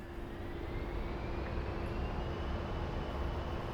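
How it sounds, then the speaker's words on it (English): The twin jet engines of an A-10C in the DCS flight simulator run at full military power on takeoff, a steady, quiet broadband roar with a faint rising whine and no voices. "Alright, full military power."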